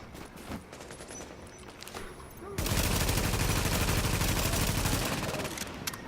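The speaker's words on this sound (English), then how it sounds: "Turret does monstrous damage at this point." A turret in a PvP game opens up into a loud, sustained stream of rapid automatic fire that lasts several seconds, following scattered quieter shots and battle noise, then tapers off near the end.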